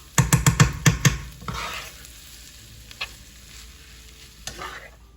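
Shrimp stirred in a frying pot with Guyanese seasonings, opening with a quick run of sharp, loud scraping strokes over a steady sizzle, then a few softer stirs about a second apart.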